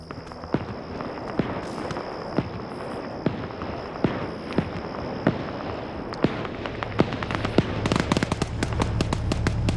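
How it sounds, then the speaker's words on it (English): Armor-piercing rounds from an LAV armored vehicle in a military video game fired at infantry, sharp distinct shots spaced irregularly across a steady battle din, quickening into a dense rapid burst near the end. "So that is the LAV firing at the infantry in here with its AP ammo."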